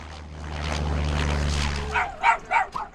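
Rescue dogs unloading from a plane in Troutdale, Oregon, bark in a quick burst of four or five sharp yips near the end, following a low engine-like rumble that fades out.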